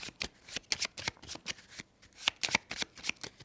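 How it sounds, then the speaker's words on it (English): A deck of playing cards shuffled during a solo pirate-themed board game, a quick run of crisp riffling bursts with a short pause midway, close and fairly loud with no talking. "We do advance to the next round, round 5, shuffling our cards up again"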